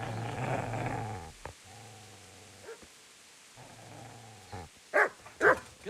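Dog growling and snarling in Kingdom Come: Deliverance, a sustained low growl broken by short gaps, ending in two sharp loud barks or yelps near the close.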